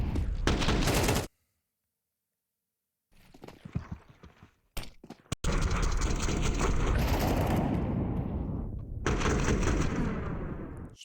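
Bursts of rapid automatic gunfire in a Counter-Strike 2 professional match, loud and close, broken by a couple of seconds of silence and a few sharp single shots before the firing resumes.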